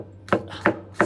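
A knife chopping a garlic clove on a board, three crisp, close, evenly spaced chops.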